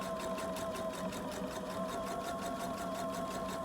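A sewing machine stitches the finished edge of a waistband, its steady, rapid mechanical hum and needle clatter running continuously and close up with no talk.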